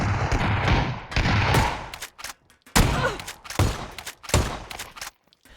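Rapid gunfire from a player shooting idle bots in PUBG, dense automatic bursts in several loud clusters separated by short pauses, with no talking.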